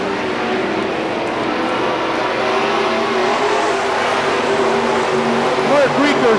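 Race cars running side by side into a turn at Billings Motorsports Park, a loud continuous engine roar under excited commentary.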